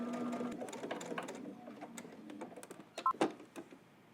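A sewing machine stitches in the ditch along a seam while sewing a Simplicity S3037 pattern, its quiet whirring run pausing and restarting before ending in a few sharp clicks and taps up close.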